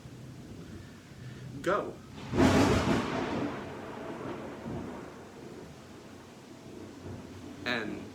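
Thunder rumbles during a thunderstorm, with a loud rolling crack that fades slowly into a low background of steady rain. A voice speaks briefly.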